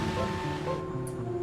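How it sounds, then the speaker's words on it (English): Water rushing out of a low port after a switch releases it in the Skies of Arcadia Legends video game, a steady heavy wash with a low rumble under it, continuous and fairly loud. "that will trigger a rumbling in the background and cause water to flow out of this"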